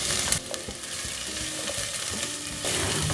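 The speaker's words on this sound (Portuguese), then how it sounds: "Com o alho já bem douradinho, eu vou colocar meia cebola picada." Half a chopped onion sizzles and crackles in hot oil with golden garlic, stirred steadily for a continuous close, busy frying hiss with a brief dip near the middle.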